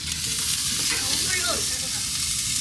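Chicken thighs with Chinese barbecue seasoning sizzle loudly and steadily on a barbecue grill at a garden party in Shanghai, a dense continuous hiss with a brief squeaky scrape midway.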